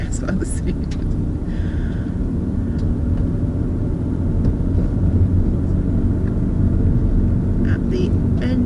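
A car's engine drones and rumbles steadily from inside during a driving lesson, loud and continuous, with an instructor's voice speaking over it.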